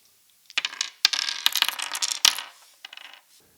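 Dice poured out of a black felt bag, a rapid clattering cascade of hard little impacts with several sharp clicks, tapering into a few scattered rattles as the last dice settle.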